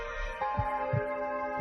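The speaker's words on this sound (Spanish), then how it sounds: "Uno de los fenómenos de Ochate más increíbles es el latido de un corazón" A heartbeat sound effect set in music, three slow, soft low thumps over a steady droning tonal bed, close and even.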